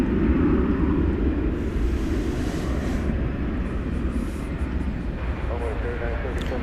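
An Airbus A340 airliner taking off at night at DFW Airport, a loud sustained low engine roar that gradually eases, with someone talking over it.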